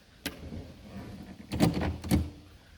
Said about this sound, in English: Let's open up the trunk.